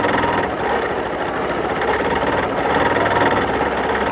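A sewing machine runs steadily while stitching a lock stitch with a ruler foot during a quilting demonstration at the Festival of Quilts, giving a continuous dense mechanical whir with no talk.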